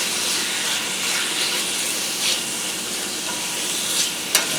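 Pork sizzles steadily in a hot pan for chow mein, a dense continuous frying hiss with occasional scrapes and clinks as the meat is stirred, close and loud with no talking.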